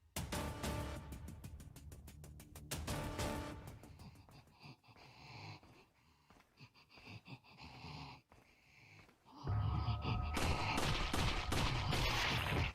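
Rapid bursts of automatic gunfire from Leon shooting at enemies in the Resident Evil 4 VR adaptation, dense rattling volleys broken by short pauses, with a loud sustained burst toward the end.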